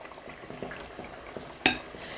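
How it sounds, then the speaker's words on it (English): Grouper pieces go back into a simmering coconut curry pot, with soft bubbling and stirring under one sharp metallic clink near the end, and no voices. "let's add our fish back into the pot"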